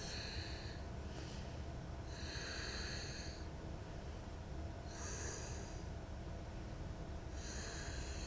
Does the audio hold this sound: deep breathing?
yes